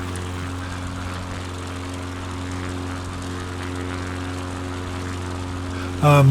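Steady, droning propeller engine of an X-Cub bush plane in Microsoft Flight Simulator 2020, a constant buzzing hum at even loudness throughout, with a sudden louder burst right at the end.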